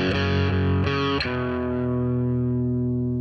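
Distorted electric guitar power chord slid up from the first fret, a few quick picked attacks and then a sustained, ringing chord that slowly decays, played close and loud with no talking.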